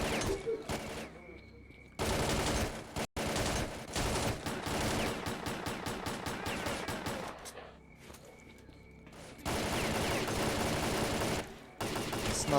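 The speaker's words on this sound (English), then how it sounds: "So one of these guys actually has a machine gun in hand." Sustained automatic machine gun fire from S.T.A.L.K.E.R.: Clear Sky, rapid loud bursts running nearly the whole time with brief pauses, some mixed rattling shots between bursts.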